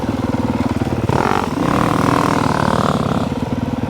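A motorcycle engine drones steadily while riding, loud and close, with a surge of revving in the middle before settling back to a constant rumble; no talking.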